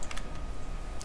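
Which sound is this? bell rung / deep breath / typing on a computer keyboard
typing on a computer keyboard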